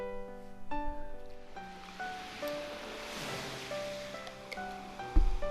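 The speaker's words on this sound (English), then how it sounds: "The waves came and went for eternity." Soft ocean waves wash in and out on Nadeshiko Beach in a visual novel game, a faint swelling surf beneath sustained musical tones and chimes.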